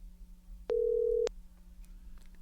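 A telephone tone sounds once as a single steady beep of about half a second, loud and clean over a low background hum, as a call is placed to Naomi Zeichner.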